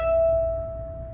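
An open E string on a violin sounds as a single sustained, steady note, held clearly for about a second with no talking.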